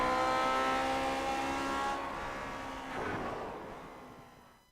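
Vintage Grand Prix Legends race cars lapping Spa-Francorchamps in iRacing, a high engine whine that shifts pitch as a car accelerates and passes, then fades away toward quiet.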